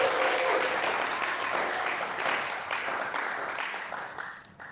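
A church congregation applauding during a French-language sermon, a sustained wash of many hands clapping that stays loud and gradually thins out toward the end.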